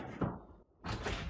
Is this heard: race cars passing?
no